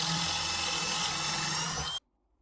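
A drill bit in a pocket hole jig bores a 9.5 mm pocket hole into a piece of wood while building a 3 ft corn snake vivarium; a loud, steady whirring grind runs for two seconds, then stops abruptly into near silence.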